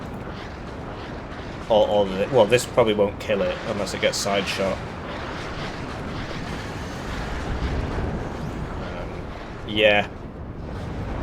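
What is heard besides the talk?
Grad rocket artillery strikes exploding in the video game Warno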